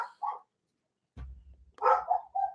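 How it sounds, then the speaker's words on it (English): A dog named Gilbert barks in short, close bursts separated by pauses, with a low thump in the middle. "please don't bark anymore"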